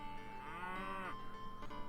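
Cattle in the strategy game Lords of the Realm let out a single long, low moo, fairly faint over a soft background hum.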